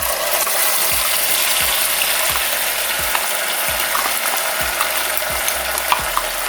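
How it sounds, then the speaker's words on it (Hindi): Ground masala and two bay leaves fry in hot oil for onion- and garlic-free chole, a loud steady sizzle filling the whole stretch while a spoon scrapes the pan in regular strokes roughly every half second. "अब हम इसमें ऐड करेंगे 2 तेजपत्ता और आंच को कम करते हुए हम इसमें डाल देंगे अपना पिसा हुआ मसाला।"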